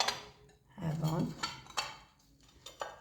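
Ceramic plates and dishes handled in a kitchen, clinking and knocking against each other in a series of close, bright contacts with scraping in between.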